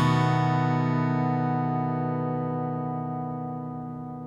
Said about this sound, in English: That's an F sharp. So it should sound like this.